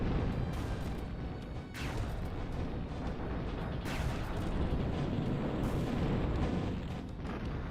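Phoenix bombers in the real-time strategy game Zero-K drop a dense barrage of rumbling explosions and booms, a continuous loud roar of blasts with a few sharper bursts standing out.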